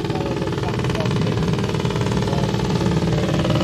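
A racing sidecar engine on a roller starter at a Pre-TT Classic sidecar race runs loud and close, a steady, dense mechanical roar with a fast throb that holds unbroken throughout.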